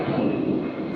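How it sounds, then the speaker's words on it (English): Steady broadband roar of airplanes passing overhead, a continuous low rumble with no breaks, fairly loud and even throughout. "Planes going by."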